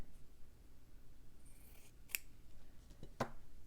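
Scissors cut a fabric scrap in a few sharp snips, close and crisp, the clearest near the middle and the end, over quiet room noise.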